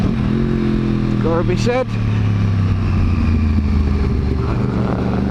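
A Yamaha R1 motorcycle engine drones steadily while riding, a continuous mid-pitched hum running under a voice as he talks throughout.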